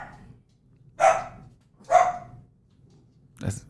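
A dog barks three times, spaced about a second apart, at moderate distance in a quiet room.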